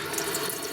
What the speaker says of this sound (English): I've rigged this up to the sink so we can do a waterproof test